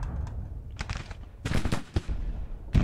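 Infantry rifle fire from a Civil War strategy battle in Grand Tactician: The Civil War, ragged volleys of crackling shots and thuds over a rumbling battlefield bed, dense and uneven.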